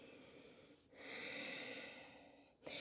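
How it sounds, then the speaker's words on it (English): Slow, audible breaths during a yoga side-body stretch, a long soft exhale swelling for about two seconds between quieter inhales, close and unaccompanied by talk. "Breathing here."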